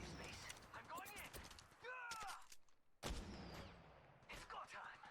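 Bursts of gunfire ring out in the mobile shooter Apex Legends Mobile, sharp shots scattered between in-game voice callouts and mechanical clatter.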